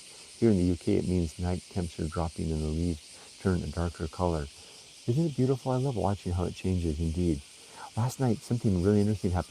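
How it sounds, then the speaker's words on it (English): Cicadas, called semi, hum outdoors in Japan on a summer day, making a steady high-pitched drone that runs under a continuous stretch of close indoor speech. "there are different types of cicada. We call them semi. You can hear them humming out there right now."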